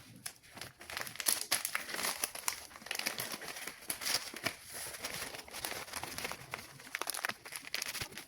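Paper sewing pattern for a frock being folded and slid into a file folder, giving close, continuous crinkling and rustling with sharp crackles and soft scraping throughout.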